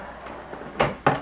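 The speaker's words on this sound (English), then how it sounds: "Now if I can only get the door to fully close." A closet door shoved shut in two firm pushes, the second thud louder and following closely after a few soft scuffs, heard close by with no talking.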